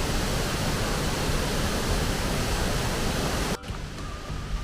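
Loud, dense roar of the first Martuljek waterfall in a Slovenian gorge, a steady broadband rush heard up close that drops off abruptly near the end.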